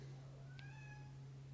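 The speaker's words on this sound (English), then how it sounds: "Oh, my cat." A pet cat named Luna gives a couple of faint, rising meows over a low steady hum in a quiet room, with no one speaking.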